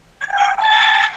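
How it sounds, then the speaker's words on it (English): A rooster crows once, loud and close, one long sustained cock-a-doodle-doo that holds steady to the end with no voices over it. "I hear the rooster"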